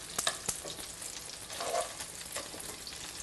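Kumara gnocchi sizzle and fry in a hot pan, a steady crackling hiss close by, with a few sharp clicks as pieces are moved and stirred.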